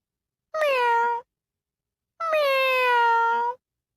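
A voice imitating a cat's meow, two drawn-out, falling, nasal meows, the second longer, close and clear with a brief pause between.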